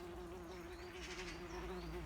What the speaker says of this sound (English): a little wasp come to join us